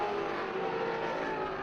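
Race cars in the STR2 class exit the final turn onto the front straightaway at a NASA road-racing event, a steady distant engine drone at moderate level with no talk over it.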